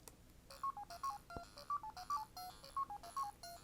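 Tinny, repetitive Pac-Man chomping bleeps from a My Arcade Pocket Player handheld, quiet electronic tones in a quick regular pattern with a brief click partway through.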